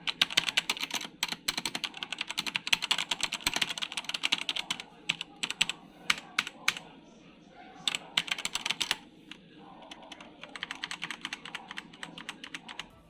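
Someone types on a budget Leaven K880 mechanical keyboard: rapid, close clacking keystrokes in uneven bursts with brief pauses, loud and clicky, a faint voice in the background at times.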